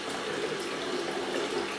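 Cold winter tap water running at maximum flow through hoses on a Grainfather home-brewing setup, a steady close rushing hiss with no pauses.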